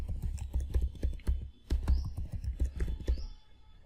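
Quick, light keystrokes of a root password typed on a computer keyboard, a close, irregular run of soft clicks with brief pauses, no talk.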